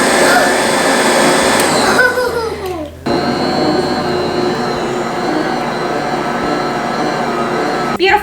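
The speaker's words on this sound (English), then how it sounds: "you got a new mixer that can actually knead bread" A new stand mixer kneads bread dough with a loud, steady motor whir, its pitch shifting briefly partway through before settling back into a continuous drone.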